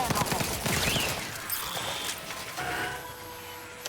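Rapid automatic gunfire from The Outer Worlds 2 rattles in a dense, continuous burst, loud and close, thinning out toward the end with faint game sounds beneath.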